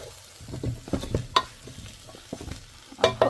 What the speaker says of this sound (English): And just give that a mix.